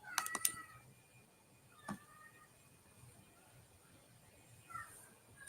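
A cat meows faintly a few times, brief high cries spaced across a quiet background with a couple of clicks near the start.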